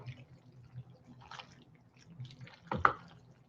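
Raw egg mixture splashing and dripping while being tossed with pasta for carbonara, small soft wet drips and squishes scattered through the clip, ending in a sharper splash, with a faint voice underneath.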